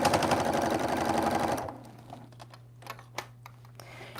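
A sewing machine rattles rapidly while stitching a quilt-as-you-go Christmas stocking made from squares, then stops abruptly after about a second and a half, leaving a low hum and a few scattered clicks.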